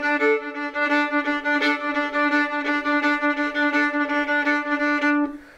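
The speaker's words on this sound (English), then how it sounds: "on a D string would sound like this." A fiddle saws out a single repeated note on the D string, bowed in steady, evenly accented Irish-style strokes, loud and close, with no talking.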